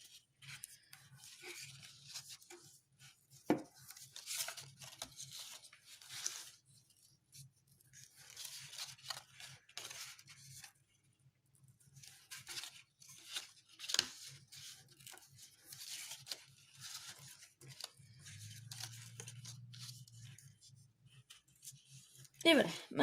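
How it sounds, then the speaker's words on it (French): Paper tabs on a storycube being folded and creased by hand, heard as soft, sporadic crinkles and rustling scrapes close by over a faint low hum. "on va plier sur les languettes"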